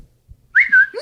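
Whistle alert from a Ring doorbell, a single bright rising tone that holds briefly and then slides again, close and fairly loud against an otherwise quiet room.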